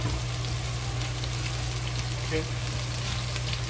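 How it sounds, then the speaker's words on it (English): Ginger, scallion and star anise fry slowly in oil in a pan, producing a soft, even sizzle over a low steady hum; a voice speaks briefly. "So slowly fry, but don't burn them."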